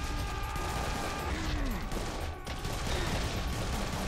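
Rapid gunfire and mechanical clatter from the video game Serious Sam 3: BFE form a dense, continuous wash of shots with no clear gaps, played steadily throughout.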